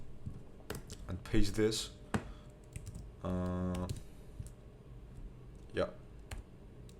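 Brief bursts of computer keyboard typing and clicks, sparse and close, mixed in with a man's speech.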